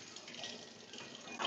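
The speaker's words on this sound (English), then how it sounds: "have like kind of splash of water going on, right? To remove the eggshells" Steady spraying and splashing water inside a tabletop machine that peels hard-boiled chicken eggs, a continuous faint wash with a brief surge near the end.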